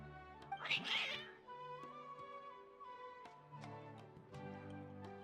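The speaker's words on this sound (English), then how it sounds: "Your cats seem pretty worked up." Cats in the video game Genshin Impact meow and yowl agitatedly, a loud drawn-out cry early on followed by softer mews over a sustained game music tone and ambient ticks.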